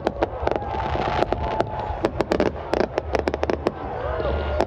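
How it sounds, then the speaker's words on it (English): Fireworks bursting at Burning Man out on the playa, many sharp cracks and bangs scattered irregularly over a rumbling crowd background, with occasional voices and cheers. "I love fireworks."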